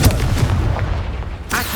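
A Confringo fire-blast spell explodes in Hogwarts Legacy with loud, booming blasts, bursting heavily at the start and again near the end over a dense rumbling game soundscape.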